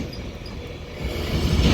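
An Avanti West Coast train, unit 39118 bound for London Euston, pulls into platform 5 at Crewe with a steady low rumble that swells as it nears, with no voices.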